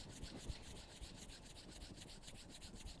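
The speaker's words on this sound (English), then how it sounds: "begin to rub your palms" Palms rubbing together in a steady, continuous swish, close and fairly quiet, with soft brushing texture throughout and no talking.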